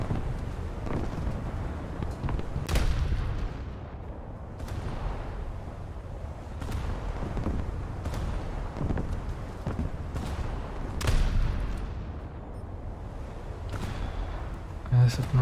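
Naval gunfire from British cruisers in a naval combat video game: a handful of heavy, distant cannon booms at irregular intervals over a steady rumbling, windy battle bed.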